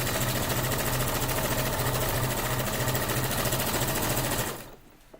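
A sewing machine stitches a seam in a fast, even, close-up whir that runs steadily for about four and a half seconds, then stops abruptly into near silence.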